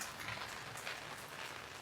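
Steady rain falling in Chennai, a soft, even hiss of drops on surfaces that holds at a constant low level throughout with no voices.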